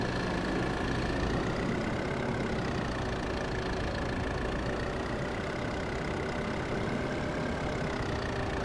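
A tractor engine idles in Farming Simulator 22, a continuous loud droning rumble with a steady whine on top that barely changes over several seconds, with no voices.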